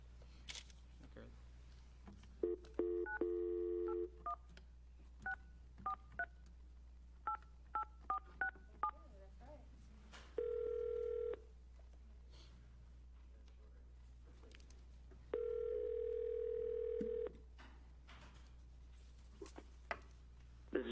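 Several bursts of DTMF keypad tones dialing a phone call to arrange a municipal court matter, followed by steady ringback tones, all fairly quiet with a low hum underneath.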